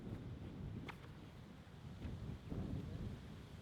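Wind gusting across an outdoor disc golf course at the Inverleigh Open, a low buffeting rumble against the microphone with uneven surges and faint distant knocks.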